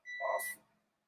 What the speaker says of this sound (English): there goes the timer